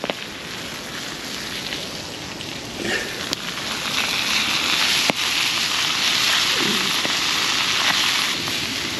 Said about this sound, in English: So that's going to go into our nice hot steaming pan